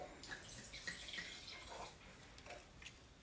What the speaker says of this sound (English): So this one, I'll just give this a pour.